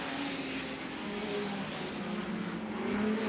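An Aston Martin racing car at a historic race in the 2015 Sussex Trophy, its engine roaring steadily and loudly close by, the pitch wavering as it is driven hard, with no voice over it.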